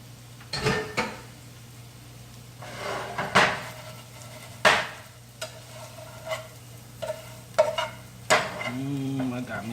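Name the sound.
potatoes frying in bacon fat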